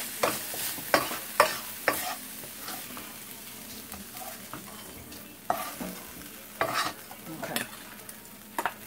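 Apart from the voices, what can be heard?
coleslaw mix frying and being stirred in pan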